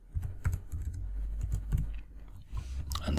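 Rapid typing on a computer keyboard, close and steady keystrokes over a low background rumble, with a short flurry of clicks at the end.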